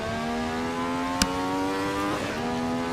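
Ferrari 312T Formula One engine idling in neutral in Assetto Corsa on the Nordschleife, a steady buzzing drone with layered harmonics, close and continuous, broken by one sharp click.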